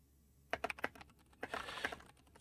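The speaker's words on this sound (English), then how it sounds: "I always move my keyboard further away when I do these things and I can't type properly" Keys clatter on a computer keyboard in short irregular bursts, a quick cluster of clicks followed by a pause and another run of taps, fairly close and alone with no talking.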